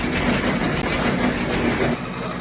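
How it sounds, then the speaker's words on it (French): A broken washing machine making a monstrous noise: a loud, continuous mechanical rumble with rhythmic clattering that carries on unbroken. "ma machine à laver m'a lâché. Voilà, elle a fait un bruit monstrueux"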